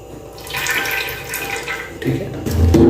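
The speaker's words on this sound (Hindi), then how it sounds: "ये 1 कप जो है मैं ऑयल डालूंगा, तकरीबन 1 कप छोटा चाय वाला" Cooking oil, about one small teacup, poured into a pot on a lit flame, making a soft liquid trickle that swells and grows louder toward the end, with no talking.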